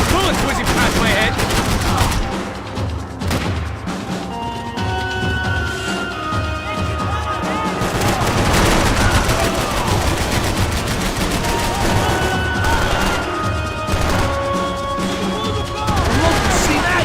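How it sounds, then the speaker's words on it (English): Heavy Max Payne 3 gunfire pounds continuously: machine-gun bursts and rapid single shots overlap in a loud, sustained firefight, with voices shouting amid the barrage. "I can't concentrate with bullets whizzing past my head!"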